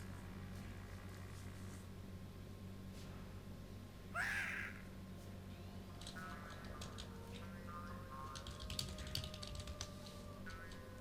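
A bird in the space station game Space Station 13 gives a single short cawing burst midway, set against a constant low machine hum and faint clicking game noises.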